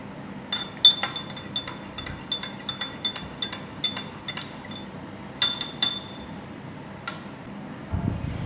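A spoon stirs squeezed lime juice in a glass, giving a steady run of light, bright clinks against the glass at a quick, uneven rhythm, fairly quiet and close, with no talk.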